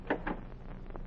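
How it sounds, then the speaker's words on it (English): A cabin door in old slave quarters is pushed open in a 1948 radio drama, two quick wooden clunks up front followed by a fainter creak, heard close with no speech. "I opened the door."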